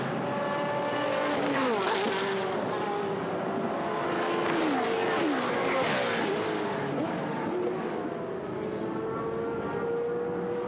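GT race cars, a Porsche among them, roar along the Mistral straight at Paul Ricard in a Blancpain GT Sports Club race, engines whining as their pitch climbs and falls in a continuous, loud stream.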